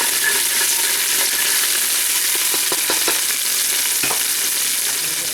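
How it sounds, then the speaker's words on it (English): Onions cooking in a cast iron pan, giving a dense continuous sizzle and crackle with light stirring clicks scattered through the middle, near and fairly loud. "it's not taking long to cook the onions, that's for sure"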